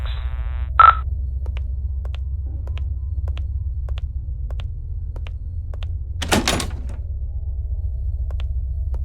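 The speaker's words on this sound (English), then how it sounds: "Dang, the door's locked." In a mental asylum, a locked door is tried, giving a sharp metallic clack, small rhythmic ticks, and a brief rattling burst of the handle over a steady low hum, with a short electronic beep early on.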